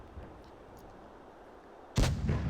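A single heavy boom of a tank gun firing in the mobile game World of Tanks Blitz during a tournament match, loud and close, following a quiet stretch of low background rumble.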